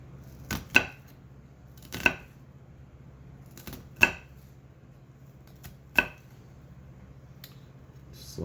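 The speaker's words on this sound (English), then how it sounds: "Slice down the middle, being very careful not to cut ourselves." A knife cuts through food onto a cutting board while chicken noodle soup is being made, giving four sharp, separate chops about two seconds apart, close and clear over a quiet low hum.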